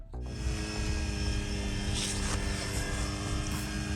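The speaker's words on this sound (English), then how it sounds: "This is actually the first time I'm flying this drone, and I have the clip on it for the bait drop" A homemade fishing drone fitted with a bait-drop clip flies nearby, a steady high-pitched buzzing whine of spinning propellers that starts abruptly and holds constant, with faint wind noise and no talk.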